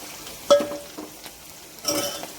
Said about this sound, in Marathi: आपली हिरवी मिरची पण छान परतून घ्यायची आहे